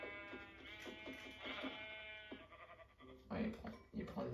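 Minecraft sheep let out several short, wavering bleats in a hardcore survival world, fairly close and overlapping other game sounds, with a clustered burst toward the end.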